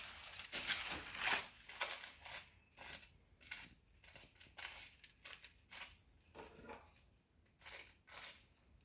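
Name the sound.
sharpened knife slicing through material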